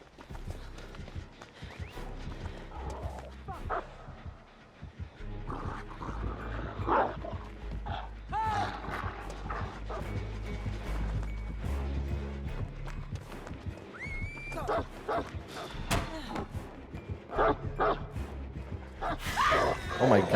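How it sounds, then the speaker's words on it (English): A dog barks and yips several times in a video game, mixed with horse neighs and clip-clop hooves amid dense game sounds and music, while a player talks over it. "Where the fuck did the dog come from?"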